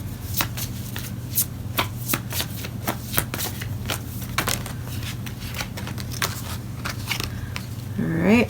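A deck of oracle cards is shuffled by hand in quick, steady riffling bursts, close and crisp, repeating for several seconds over a low steady hum.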